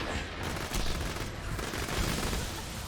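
Sustained gunfire from a surveyor enemy in Borderlands, a dense rattling barrage of shots that stays loud and close for the whole stretch with no talking.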